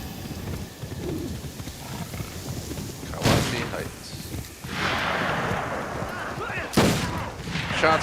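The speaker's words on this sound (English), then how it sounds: "Shots fired, backup requested." Gunfire in a video game, with sharp shots at irregular intervals over a constant rumbling game soundscape, and voices talking underneath.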